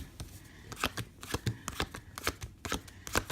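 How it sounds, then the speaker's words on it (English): Playing cards are dealt one by one into a pile, a quick run of soft close-up flicks and slaps in an uneven rhythm. "So then you just deal out 10 or 12 cards"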